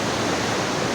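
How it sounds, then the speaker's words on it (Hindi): A river's babbling current rushing fast at a pilgrimage site, a dense, continuous broadband roar of flowing water, loud and close with no voices over it. "देखिए नदी की कलकल धारा देखिए आप"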